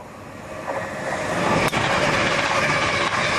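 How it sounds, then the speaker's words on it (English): A train rumbles past a links golf course during the Open Championship, a broad rushing roar that builds and holds steady at moderate distance, with a faint rhythmic rattle of wagons and no speech over it. "The train went by."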